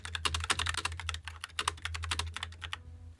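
Quick, crisp keystrokes clatter on a computer keyboard in rapid bursts with short pauses, close and clear over a low steady hum, with no talking.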